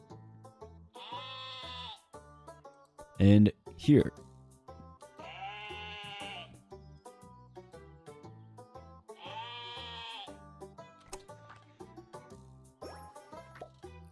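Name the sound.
sheep bleating in the video game Terracards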